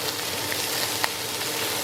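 Onions frying in oil in a pan for fideo con pollo, a steady close hiss of sizzling with a faint pop or two, no voices.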